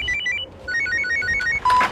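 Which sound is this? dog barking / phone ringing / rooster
phone ringing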